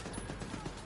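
Turret gunfire in The Division 2 sounds as a dense, continuous rattle of rapid shots, muffled and fairly faint under the game's noise.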